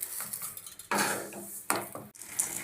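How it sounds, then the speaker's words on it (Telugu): Roasted flax seeds are scraped and poured from a pan onto a plate, giving a few soft, close metallic scrapes and a light rustling pour with brief quiet gaps. "ఇప్పుడు మనం ఒక ప్లేట్లోకి తీసుకుంటున్నాం ఫ్లాక్స్ సీడ్స్"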